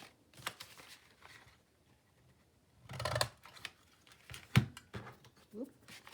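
Paper divots are cut and punched out: scattered scissor snips and crisp paper clicks come in short bursts separated by quiet gaps, close by.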